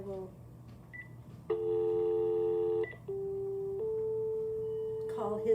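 Telephone keypad tones beep in a short sequence of sustained dialing notes, fairly faint over a low background hum, with a voice speaking briefly at the start.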